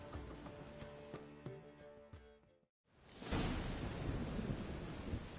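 Thunderstorm in The Witcher 3: a game music passage cuts off, then a loud rumbling thunder crash rolls in and sustains with heavy rain-like noise.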